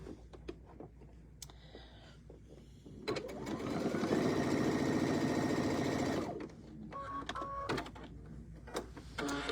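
A sewing machine stitches closed the opening of a fabric mini bucket in one loud, steady run of about three seconds, framed by quieter clicks and handling noises before and after.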